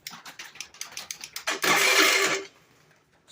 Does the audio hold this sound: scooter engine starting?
yes